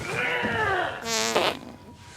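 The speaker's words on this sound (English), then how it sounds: "his ass just goes up in the air and he farts" A fart in a film scene from The Greasy Strangler, a short, rasping, buzzy burst following a stretch of vocal sound, close and fairly loud.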